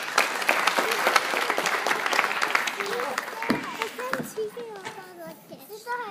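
An audience applauds to welcome a mridangam player at a concert, loud sustained clapping from a mixed crowd with children's voices, easing off toward the end as chatter continues.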